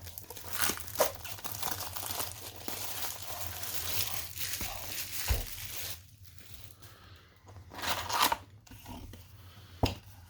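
Crinkly plastic foil of Magic: The Gathering mystery booster pack wrappers being torn open and handled up close, with bursts of crumpling and tearing across the stretch and a few sharp rips near the end.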